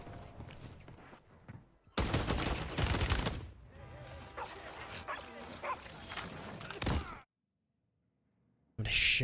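Gunfire rings out in a first-person shooter video game during solo nuke matches. Dense, rapid bursts run close and loud for several seconds, then stop in sudden silence before a short final burst.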